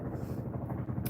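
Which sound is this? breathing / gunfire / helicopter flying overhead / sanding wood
helicopter flying overhead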